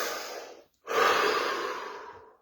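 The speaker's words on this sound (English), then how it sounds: "Take a deep breath." A deep human breath: a long airy inhale, a brief pause, then a fuller, louder exhale that slowly fades, close and with no talking.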